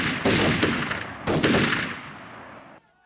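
Two long bursts of rapid automatic gunfire from a firing squad executing Grenada's leader Bishop and his cabinet, loud and sustained, with a brief pause between volleys before an abrupt stop.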